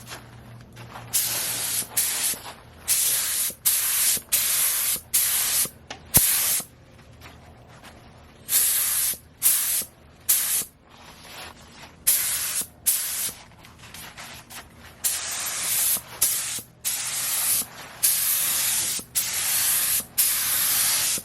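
Spray gun painting the gas tank of a 2007 Suzuki GSX-R 750 motorcycle, a loud close hiss in repeated bursts of one to two seconds with short pauses between passes, no talking.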